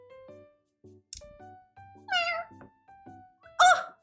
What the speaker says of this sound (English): As soon as I step out in the morning, I see this kitten.